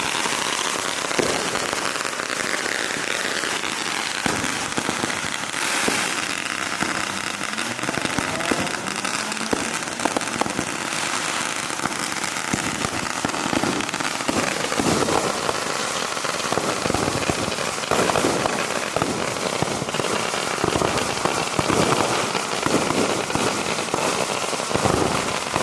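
Fourth of July fireworks and firecrackers go off in Allentown, a dense, continuous crackling barrage with scattered sharper pops and bangs at close to middle distance over about twenty-five seconds.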